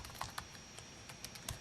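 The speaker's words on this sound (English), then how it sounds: "I'm going to type it in here" Quiet keystrokes tapped on a computer keyboard, a scattered run of soft clicks at an uneven pace with no voices.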